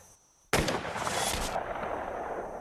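Sudden loud rifle shot in a film scene, a sharp crack followed by a long rolling echo that trails off over the open plains.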